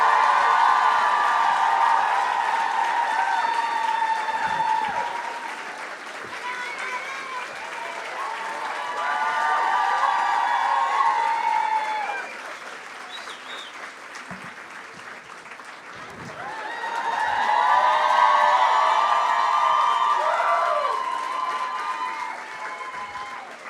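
Live audience at a Montreal comedy show applauding and cheering for the hosts, dense sustained clapping with whoops rising and falling in waves, swelling twice over about twenty seconds.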